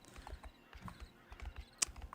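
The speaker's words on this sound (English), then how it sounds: "the whinny sound that the horses make when they jump is a little bit too hot right now" Game horses in the online RPG Pantheon, soft quick hoofbeats clip-clopping at low volume, with one brief sharp high whinny as a horse jumps.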